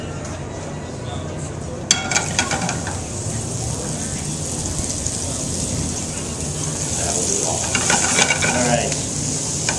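Mushrooms frying in hot oil in a pan during a cooking demo, a steady loud sizzle throughout with a few clinks of a utensil against the pan, while a person speaks briefly over it.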